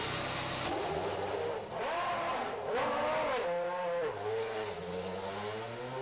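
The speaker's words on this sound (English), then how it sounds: "Warm up the engine." A BAR Formula One car sits on the grid at the Japanese Grand Prix, its engine warming up before the race with loud, close revs that climb and fall in pitch again and again.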